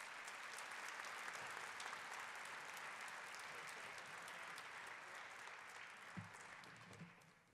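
Sustained audience applause at a business breakfast event in Nashville, a dense, steady clapping from a large room that carries on for several seconds before tapering slightly at the end.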